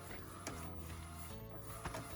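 An Epson 1430 printer printing on roll DTF film, running with a steady mechanical whir and hum, broken by a few sharp clacks from the carriage and feed mechanism, close and continuous.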